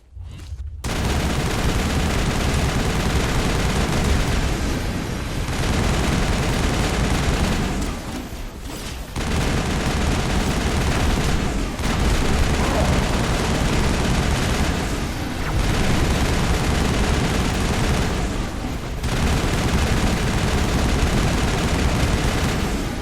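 Sustained, loud bursts of gunfire aimed at the player in the video game Mass Effect, dense fusillade with booming impacts filling most of the stretch, broken by a few short lulls.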